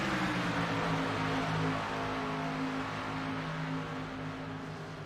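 A K&N race car engine at Charlotte, a steady, droning tone that holds through the clip, easing slightly in loudness toward the end.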